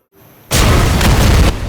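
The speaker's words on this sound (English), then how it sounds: "The explosion would be big." A big explosion in the VR shooter Sniper Elite VR bursts after a short rising lead-in, then a loud sustained roaring blast with rumble that holds without pause, no voices over it.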